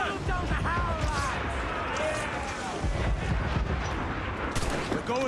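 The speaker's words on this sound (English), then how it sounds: "Now firing, sir!" Cannon and gunfire from a naval battle in the video game Assassin's Creed 4, dense bursts of shots and booms that run continuously and loudly under shouting voices and game music.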